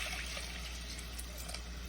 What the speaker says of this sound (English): So I'm gonna add some water into it.